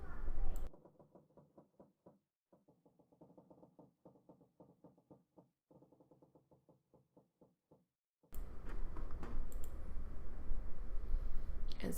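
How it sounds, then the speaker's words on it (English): Repeated knocking thuds as a fist pounds on a door in the video game 999: 9 Hours 9 Persons 9 Doors, quick irregular bursts of blows, fairly soft and isolated, between louder background sound at start and end. "Junpei threw his left fist into the door."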